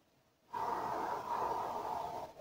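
Gentle breathing during a sophrology relaxation session, one soft, slow, close breath sustained for about two seconds after a moment of silence, with no talking.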